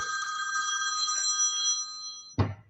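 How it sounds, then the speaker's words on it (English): A telephone bell rings with an incoming call during a live show from Baja, a steady bright trill held for over two seconds before a sharp clunk as it's picked up. "Megan's calling me"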